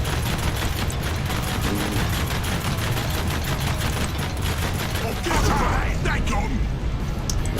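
Rapid continuous machine-gun fire rattles at turrets in Warhammer 40,000: Dakka Squadron, a loud driving stream of shots with engine noise underneath and a player talking over it.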